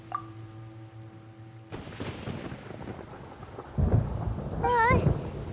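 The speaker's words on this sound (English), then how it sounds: "Paimon hears thunder!" Thunder in Genshin Impact rolls in after a brief chime, rumbling steadily, then a louder boom lands near the end, overlapped by a short rising and falling tonal game sound.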